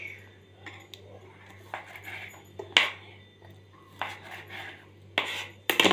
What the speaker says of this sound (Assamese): এতিয়া মই টুকুৰা কৰিম এনেকুৱা ধৰণে 3 টুকুৰা কৰি ল'লোঁ